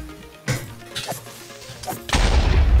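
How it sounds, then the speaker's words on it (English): A Minecraft creeper explosion in survival gameplay, with sharp thumps and a sudden loud blast that ends in a heavy booming roar. "He just survived that creeper explosion."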